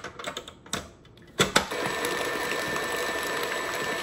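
An electric mixer churns cheesecake batter, starting after a few clunks and knocks and then settling into a steady, close mechanical whir.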